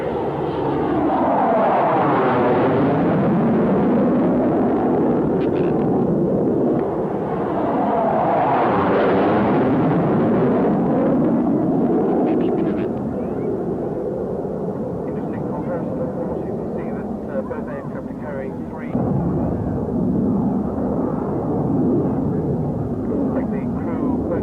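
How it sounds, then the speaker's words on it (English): Fixed-wing aircraft in long line astern on approach with gear down at the 1987 Leicester International Air Display, a loud continuous engine roar with sweeping, rising and falling passes, the drone filling the whole stretch with talk over it. "You can see the approach lights of the aircraft come in long line astern with the gear down in the approach configuration."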